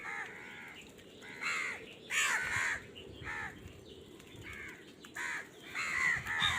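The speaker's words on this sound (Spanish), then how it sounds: "Los cuervos salvajes siberianos no solo son inteligentes, también tienen notables capacidades de aprendizaje y memoria." Siberian wild crows give repeated harsh caws in irregular bursts, several calls overlapping, fairly close, over a low rustling outdoor background.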